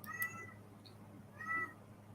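A cat named Meatloaf meows twice, faint and a little distant, with a quiet pause between the two calls.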